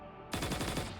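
After a quiet moment, guards in Punishing: Gray Raven open up with a sudden, loud burst of rapid automatic gunfire, with shots rattling off in quick succession.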